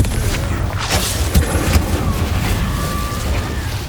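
Confringo blasting spell explosions in Hogwarts Legacy, several loud booming blasts and crackling impacts over a dense, noisy rumble of combat, one after another.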